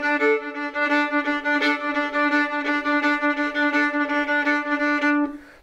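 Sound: fiddle single note on D string

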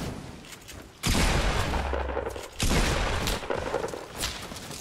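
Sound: gunfire in the video game Fortnite

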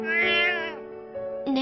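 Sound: cat meowing in video game Alternative Girls 2

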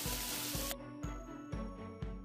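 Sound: hot mustard oil tempering sizzle

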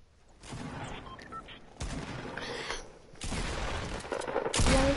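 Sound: shotgun gunfire in the video game Fortnite

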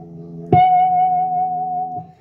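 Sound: guitar natural harmonic at seventh fret of B string

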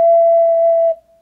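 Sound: ocarina playing the note E

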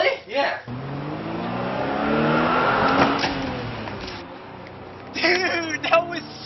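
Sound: car driving down the street and hitting someone

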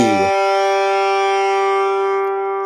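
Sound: guitar G string plucked

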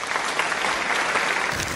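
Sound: applause

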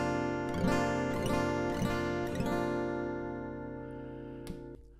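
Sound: guitar in drop D tuning with capo on third fret

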